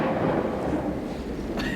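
A thunderstorm stage effect in a Shakespeare play rolls as loud, continuous low rumbling thunder with a noisy wash over it, and a brief bright crack near the end.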